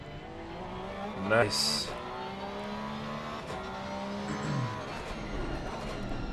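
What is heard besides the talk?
Porsche race car engine in a racing video game at Donington Park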